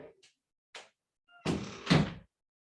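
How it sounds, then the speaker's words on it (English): A door closes indoors: a few faint taps and shuffles, then a solid thunk with a short rattling latch, fairly close and alone. "Close the door so you guys don't have to hear my husband."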